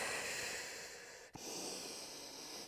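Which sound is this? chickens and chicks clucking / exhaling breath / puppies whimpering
exhaling breath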